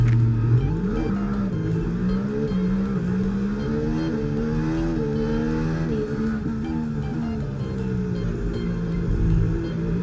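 An F1 24 race car pulls away from the start, its engine loud and close as it revs up through a rising, stepping whine of gear changes.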